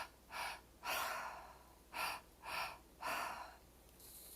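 Slow, deliberate breathing in a guided breathwork meditation, five or six strong, close, airy inhales and exhales in a steady rhythm, heard alone with no talking.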